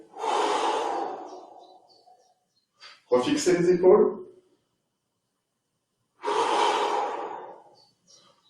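Long audible exhalations during a Pilates exercise, two drawn-out breaths near the start and end with a brief spoken instruction between them, close and clear.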